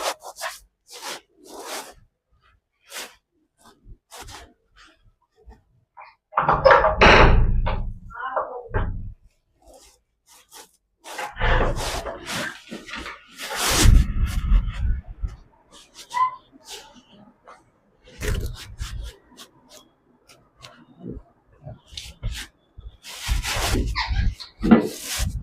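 Repeated rubbing and scrubbing strokes as writing is erased from a board, coming in irregular bursts of rasping friction with pauses between them, close and fairly loud.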